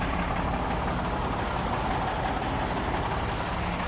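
A dump truck's diesel engine running steadily at idle, heard close at the exhaust muffler as a constant low rumble with no break.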